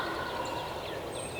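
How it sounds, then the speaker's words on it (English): A wild turkey gobbles at close range in South Carolina woods on the opening morning of hunting season, one rolling call standing over a steady wash of outdoor ambience. "we got one gobbling pretty close"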